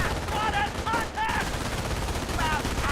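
MG42 machine gun fire in the video game Company of Heroes, a dense, continuous rattle of gunfire with battle noise and short whistling tones on top, loud and close throughout.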